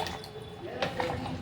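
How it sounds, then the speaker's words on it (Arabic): Water poured from an electric kettle while cooking: a soft, gurgling liquid stream with splashy drips under a voice talking. "بصوا اهو نزلت بالميه، ده كاتل"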